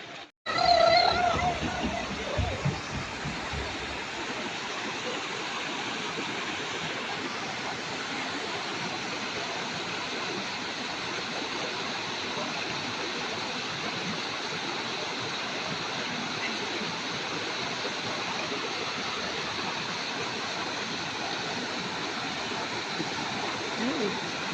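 Water rushing back into the Fontestorbe intermittent spring, a steady, broad roar of flowing and splashing water that starts abruptly and then stays continuous and fairly loud throughout.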